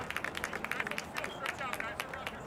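Crowd at a high school basketball game clapping in support of an injured player, a run of quick, scattered claps over a low murmur of the gym, moderate in level and fairly close.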